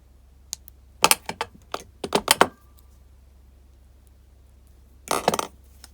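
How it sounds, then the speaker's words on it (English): Wire cutters snipping the tail end off copper wire wrapped around an earring, a few sharp metallic clicks and ticks up close, clustered in two short bursts separated by a pause. "I'm going to cut the tail end off there while I can still get to it"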